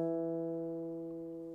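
One acoustic guitar note, fretted at the second fret of the fourth string, sustains cleanly and fades gently over a second and a half, heard alone.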